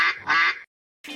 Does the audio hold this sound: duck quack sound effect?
yes